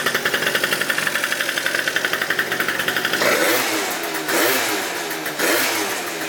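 Scooter engine fired up and running after the carburetor is refitted, a rapid even putter for about three seconds, then loud revving in swells with brief dips between throttle blips, close by and alone.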